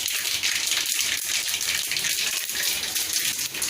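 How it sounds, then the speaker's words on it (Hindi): Heavy rain pouring outside, a dense, steady hiss of countless drops hitting surfaces, loud and unbroken throughout without a pause or any voices. "बाहर केते जोर वर्षा"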